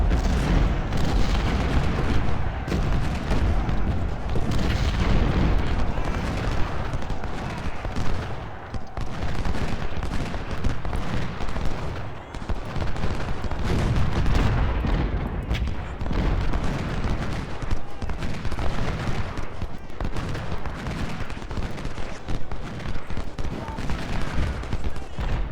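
Dense, continuous volleys of musket and carbine fire from cavalry at First Bull Run in Ultimate General: Civil War, crackling nonstop at steady loudness with rolling booms underneath and no pauses.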